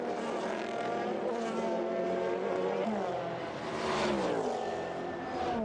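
Race cars roar away at the start of the 1999 Le Mans 24 Hours, two Toyota GT1s leading ahead of Mercedes and BMW, a loud dense pack of engines with pitch sweeps rising and falling as cars pass.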